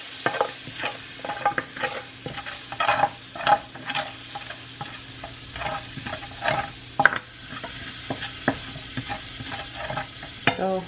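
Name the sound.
stirring butter, pepper and onion in a pot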